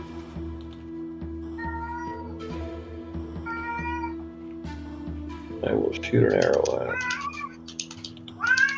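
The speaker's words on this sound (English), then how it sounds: "Yeah, I have a cat. She's right next to me." A pet cat sitting beside someone meows several times in clear, close, drawn-out calls, with keyboard typing and a person talking during a tabletop campaign session.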